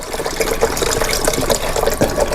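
Rum and coke is poured into a cup in a loud, close, continuous splashing stream with bubbling fizz throughout.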